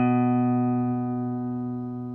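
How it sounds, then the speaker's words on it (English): A guitar note fretted at the second fret of the open A string rings out alone, steady and resonant, decaying gradually over a couple of seconds. "Take your first finger and place it on the 2nd fret of the 5th string"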